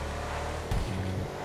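An Ubermacht Rebla GTS in GTA Online drives with a steady engine drone, then a brief louder surge of revving partway through, close and alone.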